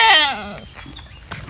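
A goat gives a single loud, close bleat that quavers and then breaks off, followed by faint rustling.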